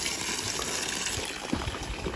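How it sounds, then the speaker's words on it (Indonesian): Water gushing hard from a tap at a mountain spring on Mount Merbabu, a constant close rushing splash with no talk. "ini deras banget karena udah pakai keran kayak gini ya"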